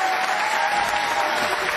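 Bowling crowd at a PBA playoff match applauding, a steady dense wash of clapping that stays loud and even throughout the short burst.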